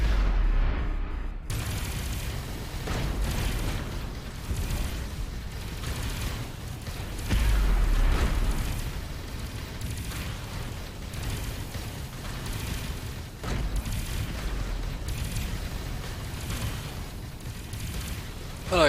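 Spaceship weapons in the space game Avorion fire in a dense, continuous barrage of booming blasts and rumbling bursts, loud and sustained, with occasional voices under the gunfire.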